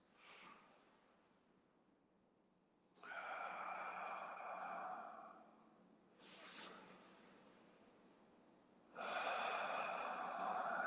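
Slow, audible yoga breaths during a vinyasa class: long hissing inhales and exhales come in several drawn-out waves, close and soft, with quiet pauses between them and no talking.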